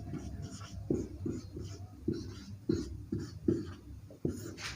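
Chalk tapping and scratching on a classroom board during a Hindi physics lesson, a series of short, rhythmic strokes at fairly regular intervals, faint and close.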